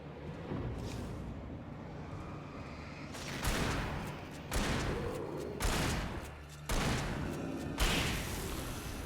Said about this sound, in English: Our friendly neighborhood turrets here are very powerful.